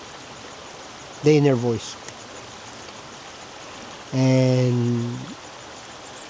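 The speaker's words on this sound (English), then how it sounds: "I hope the mic is picking up the nice calming water" A flowing stream makes steady, calming noise throughout, with a person speaking briefly over it twice.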